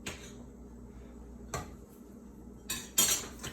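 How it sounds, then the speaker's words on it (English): Metal utensil scraping and clinking against a cooking pot while butter is stirred, a few sharp clanks standing out over a low steady background, close and moderately loud. "Do not stop stirring."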